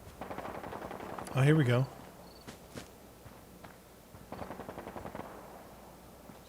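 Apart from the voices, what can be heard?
gunfire in a video game (Fallout)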